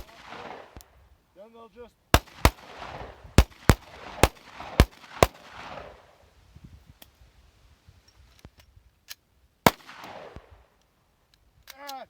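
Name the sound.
Glock pistol gunshots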